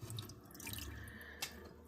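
Water pouring into an indoor garden reservoir, a steady trickling and splashing stream with light dripping and one brief louder splash near the end, close and fairly quiet.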